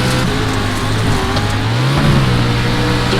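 Race cars in the iRacing video game accelerate at a restart on a short course, a loud, close, steady engine drone. The pitch rises and holds as the field pulls away.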